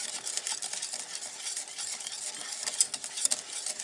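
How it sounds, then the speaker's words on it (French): A spoon scrapes steadily around a pot of homemade chocolate caramel spread, with chocolate squares melted in and the mixture stirred without pause, giving a continuous close, gritty swishing with small clinks. "On remue sans cesse, parce que c'est du caramel hein, quand même."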